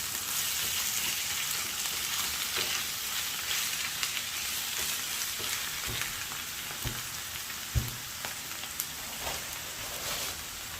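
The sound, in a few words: stirring liver with parsley in a frying pan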